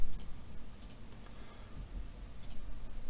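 Sharp paired mouse clicks in quick bursts near the start, around one second and again near two and a half seconds, over a low steady room hum while setting up the CBS Unity asset.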